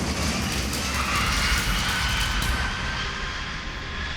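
Airbus A380 airliner landing, a loud, steady broadband jet roar that fills the clip and fades slightly toward the end.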